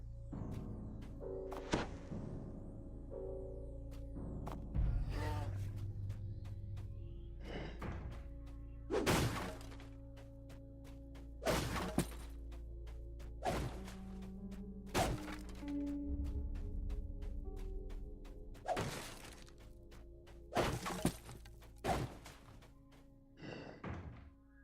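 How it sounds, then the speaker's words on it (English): Repeated smashing of breakable objects in the game Dungeons & Dragons Online, a series of sharp thunks and thuds every few seconds over a low ambient game drone, some with brief shattering edges. "Smashing everything as usual to"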